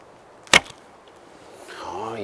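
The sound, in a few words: bit cutter arrow shot from Nomad L7 Turkish bow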